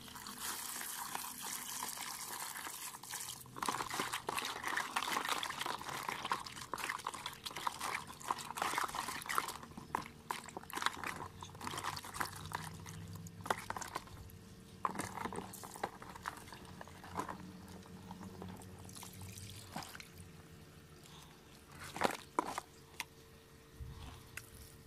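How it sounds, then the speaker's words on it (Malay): Eggshells being washed by hand in water give a quiet, continuous slosh and trickle with scattered small clicks and splashes. "saya dah pun selesai membasuh kulit telur ni ataupun cengkerang telur"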